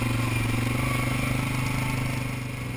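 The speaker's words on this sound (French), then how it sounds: "En accélérant après mon arrêt à la voie ferrée, le moteur a des manques." A quad's engine runs steadily under load while pulling away after a stop at a railway crossing, its even mid-pitched drone carrying irregular stutters from misfiring, loud and close throughout.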